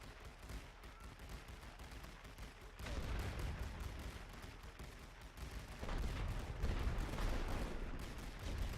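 Distant artillery barrage in the video game The Great War: Western Front, a dense continuous rumble of overlapping shell blasts and gunfire that swells louder partway through.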